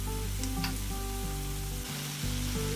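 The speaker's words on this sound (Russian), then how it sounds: "На разогретую сковородку добавим немного растительного масла и выкладываем тесто столовой ложкой. Обжариваем с каждой стороны по 2-3 минуты." Kefir pancake batter fries in vegetable oil in a hot pan, giving a dense, continuous close-up sizzle that crackles steadily throughout, with no voices.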